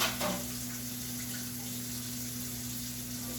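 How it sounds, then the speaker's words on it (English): Tap water runs steadily into a sink while butter container dishes are rinsed, a soft continuous hiss with a faint mains-like hum underneath and no talking. "Got a couple butter container dishes here we're going to wash up. Rinse them out."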